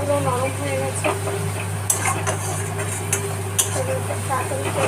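Chicken masala with yogurt and egg being stirred and fried down in a pan, with steady clinks and scrapes of a spoon against metal over a continuous low sizzle and hum, close and fairly loud throughout.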